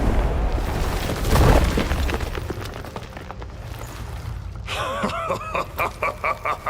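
Stalagmites break apart in a mine in The Witcher 3: Wild Hunt, a loud crumbling boom with rumbling debris, followed by a rapid series of sharp clattering bursts.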